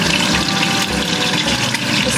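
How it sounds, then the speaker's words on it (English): Water running steadily and loudly into a pot for cooking bow tie pasta, a continuous close splashing rush with no pauses. "Now this is the water for the pasta"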